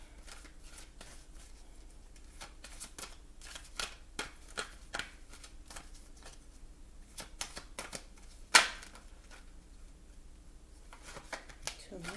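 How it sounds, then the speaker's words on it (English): Oracle cards are shuffled by hand in a run of quick papery riffles and flicks, with one sharper snap near the end, heard close up against a quiet room. "I'm going to pull some oracle cards."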